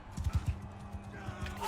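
Horse hooves clip-clopping in the video game Mount & Blade II: Bannerlord, a quick cluster of three heavy thuds followed by lighter, irregular hoof beats over a muffled background.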